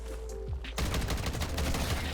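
Rapid automatic gunfire bursts out in MW3 Zombies as a player shoots at zombies, a dense loud stream of shots following a brief quieter moment.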